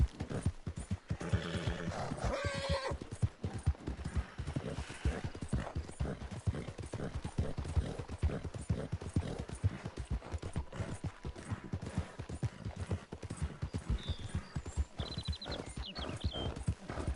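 A horse gallops in Red Dead Redemption 2 with steady, rapid hoofbeats throughout, a brief whinny near the start and faint game sounds later on.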